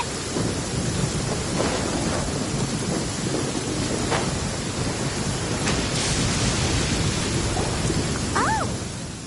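A thunderstorm in the video game Genshin Impact rumbles with steady heavy rain and rolling thunder throughout, loud and continuous, with a brief chirping sound near the end and no talk.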